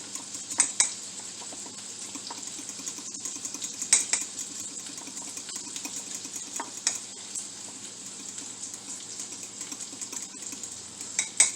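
A spoon stirs egg sandwich filling in a bowl to a mostly smooth, thicker texture, with soft continuous scraping and occasional louder clinks against the bowl as it turns, with no talking.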